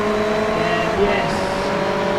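A race car overtakes during the Le Mans 24 Hours, engine droning loudly with a rising whine as it pulls past, under a commentator's voice.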